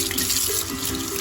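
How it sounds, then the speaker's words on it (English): A kitchen faucet pours cold water steadily over kefir grains being rinsed, a continuous close splashing hiss with no voices. "So I'm gonna rinse them in cold water."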